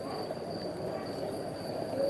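Crickets chirp on a stone town square among buildings, a steady high trilling that continues unbroken at moderate loudness with no voices.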